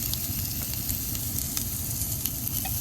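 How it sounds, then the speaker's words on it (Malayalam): Small onions and grated coconut fry in ghee for a Kerala pumpkin erissery, a steady close sizzle with soft scraping of stirring throughout, no voices. "ചെറിയ ഉള്ളി അതും കൂടെ ഇട്ട് ഒന്ന് മൂപ്പിച്ചെടുക്കാം"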